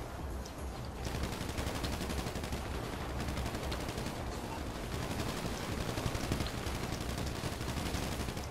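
Dense, continuous automatic gunfire in GTA Online, with rapid bursts of shots layered over one another through the whole stretch, loud and close with no talking.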